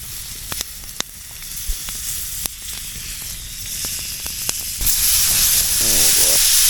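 Smelt fish sizzle steadily as they fry in a pan over a campfire in the snow, the hiss continuous and close, with a few sharp pops and crackles, swelling louder and brighter toward the end.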